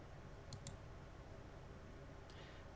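A few faint, sharp computer mouse clicks, two close together and one a moment later, over a steady low room hum while a simulation model is started in VisSim software.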